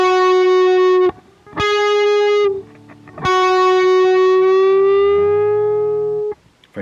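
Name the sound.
guitar whole step bend from 11th to 13th fret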